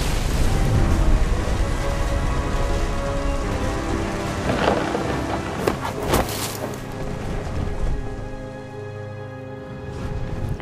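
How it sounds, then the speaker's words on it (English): Heavy rain pours steadily in the video game What Remains of Edith Finch, with close, powerful thunder cracks rolling through midway before the downpour eases slightly near the end. "The thunder sounded much too close and full of angry power"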